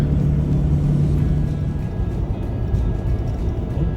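Vehicle rolling along a gravel highway section on a road trip toward Alaska, a steady loud low rumble of tires and engine continuing throughout with no break.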